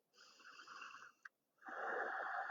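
Slow, audible breathing held through a yoga pose with the forearms or palms on the floor: a long, airy, somewhat wheezy inhale, a brief catch and pause, then a louder, rushing exhale close to the mic.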